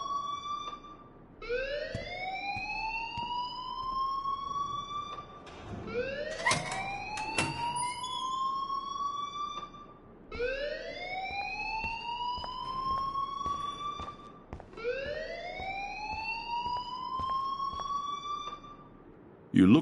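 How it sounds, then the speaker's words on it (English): An alarm in the video game Life is Strange wails in repeated rising siren sweeps, about four cycles, steady and prominent over a murmuring background. "please turn off that alarm since that's your job"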